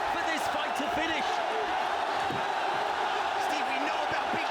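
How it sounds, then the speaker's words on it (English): A crowd at a kickboxing event roars and yells throughout as a fighter's heavy punches land, with scattered shouts and whoops over a steady din, joined by a voice speaking. "The crowd absolutely baying for this fight to finish."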